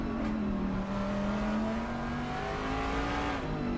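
Race cars accelerating off the grid at the start of a race at Silverstone, a steady engine drone with rising pitch as the field pulls away, sustained and fairly close.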